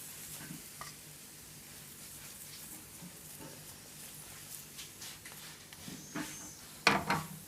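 A chapati fries in oil in a pan, giving a steady soft sizzle with occasional stirring and pan scrapes, then a sharper clatter near the end.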